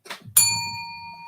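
A single bell is struck once after a soft knock at a boxing event, its bright metallic tone ringing clearly and fading slowly.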